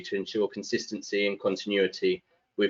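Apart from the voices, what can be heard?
No everyday noises stand out.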